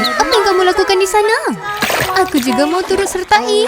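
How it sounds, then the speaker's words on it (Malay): Cartoon water splashes and sloshing under a voice talking, set among playful animated sound effects. "Kok aku dengar bunyi percikan?"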